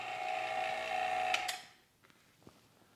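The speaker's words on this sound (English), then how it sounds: "you can hear the pump. It's struggling a little bit" Harvest Right freeze dryer vacuum pump struggling: a strained mechanical whine with a buzzing drone for about a second and a half, then it cuts off, leaving faint clicks and near silence.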